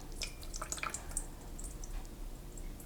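Water gently poured off tomato seeds in a container, a quiet trickle with a few small drips and splashes, close and faint.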